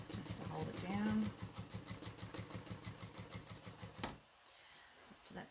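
A Jack A6F sewing machine runs in a fast, even rhythmic stitching burst for about four seconds, then stops abruptly, with a quieter tail after it falls silent.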